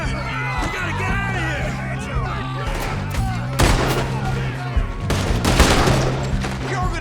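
Rapid volleys of gunfire in a Red Dead Redemption 2 shootout, loud and close with several heavy blasts, under and between shouting voices.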